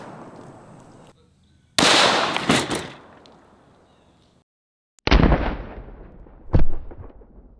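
Two loud 5.56 rifle shots fired at lightweight level 4 body armor plates outdoors, each a sharp blast with a long decaying echo, several seconds apart, with quiet background between them.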